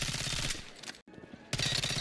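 Hip-fire bursts from a CZ3A1 gun in Battlefield 6, with a dense rattling stretch of rapid shots, a brief near-silent gap, then another loud burst of automatic fire resuming.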